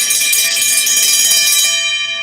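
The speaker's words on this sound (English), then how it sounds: "I'm going to give you a super chat bell ring" A live stream's super chat alert bell rings loudly and continuously as one bright, sustained metallic tone, then fades out at the end.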